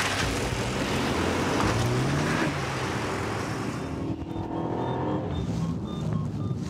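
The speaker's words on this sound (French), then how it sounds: "La voiture des gendarmes part à sa poursuite." A gendarmerie police car speeds away in pursuit on a motorway, its engine roaring loud and close as it accelerates, with a steady rush of road and wind noise that thins out toward the end.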